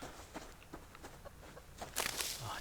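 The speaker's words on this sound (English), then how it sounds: "There's a chicken just there" A chicken in the survival game Subsistence gives a string of soft, irregular clucks at a distance, followed by a louder, brighter burst of fowl noise near the end, with no talk.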